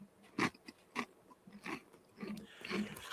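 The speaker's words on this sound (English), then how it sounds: "Then you're crunching in the fucking microphone" Close-miked chewing and crunching right into a microphone, a run of wet, crackly bites and mouth noises in an uneven rhythm, loud and intimate against a quiet background.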